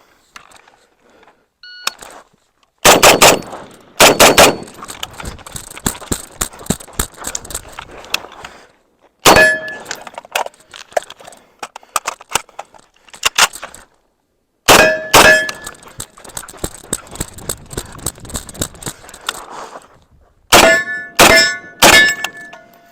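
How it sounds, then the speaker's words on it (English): An M1A rifle fires in strings of sharp cracks, each followed by bright metallic pings from steel targets, the bursts separated by pauses. "we shot close to a couple hundred rounds out of the M1A today"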